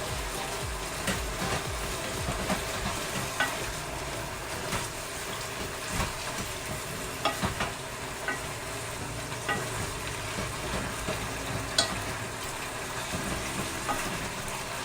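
Beef and broccoli stir-frying in sauce, a steady wet sizzle with constant bubbling and intermittent scraping stirs, close and even throughout, no voices.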